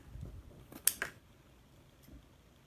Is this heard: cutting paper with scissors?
yes